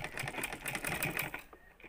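A sewing machine runs in a steady rapid stitching rhythm as a dress seam is folded and sewn, close and fairly loud, then stops near the end.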